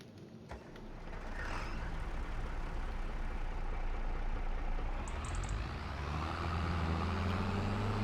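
A tractor engine in the farming game Farming Simulator 25 starts up and settles into a loud, steady diesel rumble that holds near and constant.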